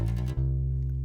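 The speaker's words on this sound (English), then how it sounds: "we're going to pluck it again and slide down to the F here" A single bass guitar note plucked on the E string, sustaining deep and steady after a quick slide, clean and close with no talk over it, from a walking bass line.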